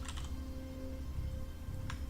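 Faint keystrokes on a computer keyboard, a brief cluster of clicks at the start and another near the end, over a low steady hum.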